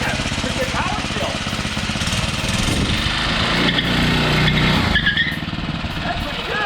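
A gas mini bike engine runs on diesel fuel, a loud, close, buzzy small-engine drone that revs up and down. A voice can be heard over it.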